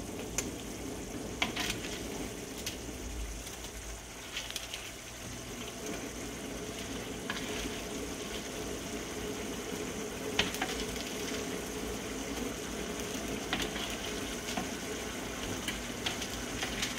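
Oven-baked meatballs with little oil go into a pan of tomato chutney and are stirred, giving a steady low sizzle with occasional soft scrapes and clinks of the spoon, no voices.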